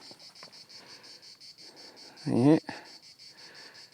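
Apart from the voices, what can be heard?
cicadas chirping in late July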